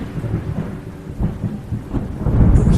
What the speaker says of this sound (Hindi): उसी रात जब बिजली गरज रही थी